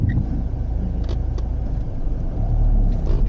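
Car engine during a learner driver's lesson on pulling away without stalling, a loud steady low rumble from inside the cabin, with no talk.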